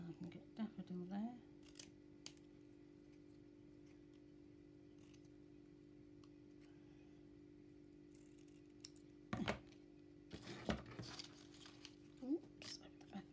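Scissors snipping through paper while cutting out daffodil and crocus shapes for a spring craft, a few quiet crisp snips near the start and a cluster of sharper cuts later, under a steady low hum.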